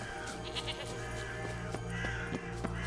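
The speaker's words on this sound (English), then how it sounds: "it's a freaking billy goat" Billy goat in the game Witcher 3 bleating in a few short, wavering calls over a steady low ambient game hum, moderately near and fairly quiet.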